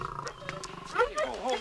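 A lion roars in a television drama, a deep growling snarl rising under a person's voice and mixed with other show sound.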